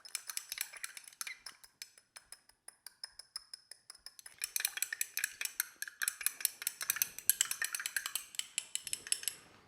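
Glass stirring rod clinking and scraping in a small vessel of warm cyanotype solution, a steady run of light, rapid ticks that grow busier and denser halfway through, close up with no talk.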